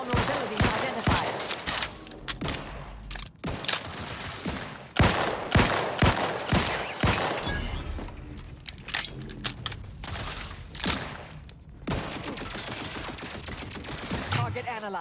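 Gunfire in the video game The Outer Worlds 2: dense bursts of rapid automatic shots and sharp single cracks, with clinking metallic shell and reload sounds in between and a synthetic voice speaking briefly.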